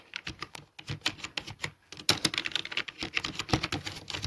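Rapid continuous typing on a computer keyboard while writing in Microsoft Word, dense clattering keystrokes with a brief lull before speeding up again, close and clear without any voices.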